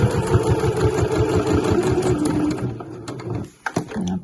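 A sewing machine stitches around the edge of an internal patch pocket on a weekender bag, a steady rapid mechanical whirring that stops near the end, then brief clicks and handling noise.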